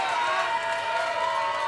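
A wrestling crowd at an NWA World League Wrestling show cheers in a steady roar, with a high, sustained wash of voices and applause and no clear break.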